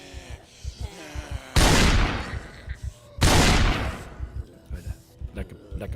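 Gunfire in the zombie survival game Project Zomboid: two loud, sharp shots a couple of seconds apart, each with a decaying tail, over steady male speech.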